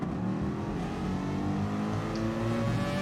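A pack of race cars in a racing video game roars away at the start of race two, engines layering into a dense, loud, continuous drone whose pitch climbs steadily as they accelerate, with no voices over it.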